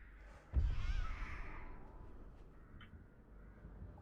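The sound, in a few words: crows cawing in Dead by Daylight video game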